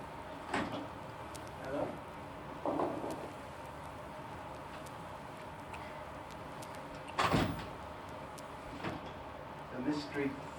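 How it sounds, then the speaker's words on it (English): A door opens or closes a few times at mid distance, in a quiet room with faint background noise and occasional knocks. "It's another door."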